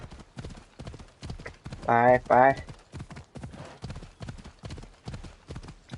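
A horse's hooves gallop in Assassin's Creed Odyssey as a steady clip-clop rhythm, with a brief neigh midway and someone talking over it.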